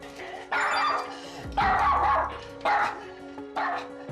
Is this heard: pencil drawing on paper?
no